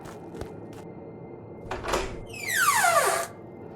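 In the INCUBO horror game a door opens: several soft clicks and knocks come first, then a brief rush and a rising, grinding mechanical scrape that sweeps upward and cuts off, close and moderately loud.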